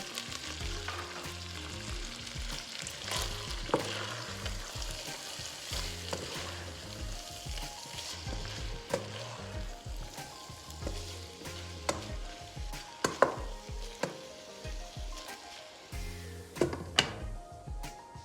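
Steady sizzling of chopped onions and garlic sautéing in a pan for chicken sauté, with intermittent scraping and clinking as they are stirred, moderately close and without talk.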